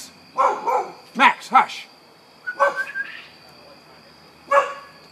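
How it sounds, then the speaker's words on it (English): Max the dog barks in short, sharp bursts indoors, close to the microphone, in a repeating uneven pattern, and someone speaks briefly between the barks. "You're just going to have to deal with him barking here for a few minutes."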